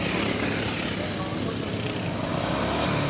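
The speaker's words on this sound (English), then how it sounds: "They're revving it some more." A racing lawn mower engine revs hard after a failure during a 12-hour endurance race, droning loudly and continuously under a commentator's voice.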